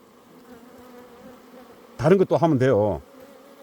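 Native Korean honeybees in a hive give off a steady, low, droning hum throughout, and someone speaks briefly over the buzz midway.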